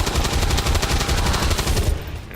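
Rapid gunfire from the video game XCOM rattles in dense, continuous bursts for about two seconds, loud and close, then tails off slightly at the end.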